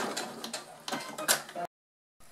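A domestic sewing machine runs a short burst of back-tack stitching at the end of a seam, a close, rapid mechanical whirring rattle with a few sharp clicks, then stops abruptly into silence before a faint sound resumes.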